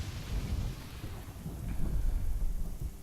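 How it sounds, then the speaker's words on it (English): Low, rolling thunder rumbles steadily in the game Chaos on Deponia, mixed with a dense hiss of falling rain over three seconds. "So much thunder in the air."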